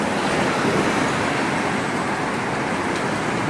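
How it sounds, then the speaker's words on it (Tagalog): Steady, dense road traffic on Lockhart Road in Wan Chai, Hong Kong, a continuous loud roar of cars and buses with no breaks and no talk. "Ang sikip ng mga sasakyan."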